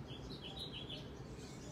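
Several small birds chirp and tweet in the background, with repeated high, thin calls over a steady low room rumble, fairly faint and without any talking.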